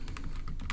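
Rapid typing on a computer keyboard, with irregular clicks and clacks at close range that continue steadily without any talking.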